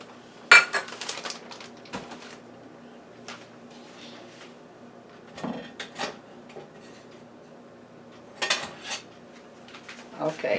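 Brown sugar is packed into a half-cup measure in a home kitchen, heard as scattered clinks of cutlery and dishes with scraping and tapping between quiet pauses, a few sharper knocks standing out.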